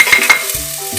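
Onion, carrots and celery hit hot olive oil in a pan over slow heat, giving a close, soft sizzle broken by a few brief stirring scrapes and clatters across a short moment.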